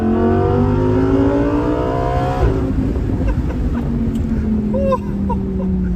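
Lamborghini Huracán engine dropping a gear with a blip, then pulling hard as the rising whine of its harmonics sweeps upward, loud and close, with some faint talk underneath.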